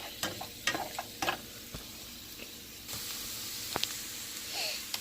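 Canned tomatoes cooking in a pan, a steady soft sizzle and simmer with several sharp stirring scrapes and taps of a utensil scattered through, close and moderately quiet.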